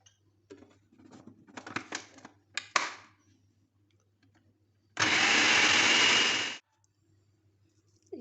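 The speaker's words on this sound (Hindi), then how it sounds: "कीमे को थोड़ी देर के लिए इसमें हम पीसेंगे ताकि ये अच्छी तरह से बारीक हो जाए" An electric grinder minces keema with tomato seeds for Peshawari chapli kabab. After some scattered clinks and knocks, the motor whirs in one loud, steady burst of about a second and a half, then stops.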